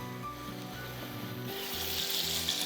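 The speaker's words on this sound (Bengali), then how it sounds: "আস্ত কিছু গরম মশলা আমি এর মধ্যে দিয়ে দিচ্ছি।" Whole garam masala spices sizzle in hot oil for a Kabsa biryani, a steady close frying crackle that swells louder partway through, with no talking.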